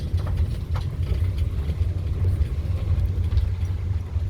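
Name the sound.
resort shuttle vehicle driving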